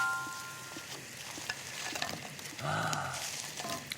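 Dried pollock and garlic fry in hot oil, the frying steady through the clip with a brief louder swell of bubbling near the end; a faint voice murmurs underneath.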